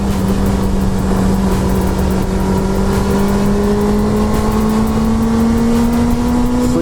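A small, tiny motorcycle engine drones steadily, its pitch slowly climbing as it accelerates, loud and close throughout.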